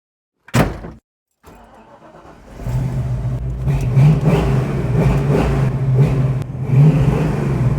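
A car door thuds shut, then after a short gap the engine starts and the car drives off, a steady mid-pitched engine hum and road noise building and holding loud and close.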